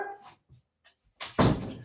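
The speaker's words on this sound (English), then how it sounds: "Sorry, my dog is going crazy." A pet dog gives a couple of short, muffled barks indoors, followed by a louder thump like a door closing, brief and close.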